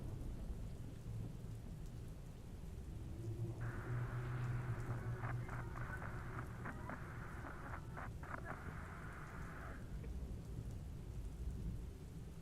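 Thunderstorm with steady rain hissing throughout, a low rolling rumble of thunder in the middle, and a tonal crackling sweep layered over the storm, all fairly faint.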